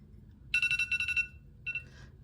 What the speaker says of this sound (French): Vous avez entendu mon réveil?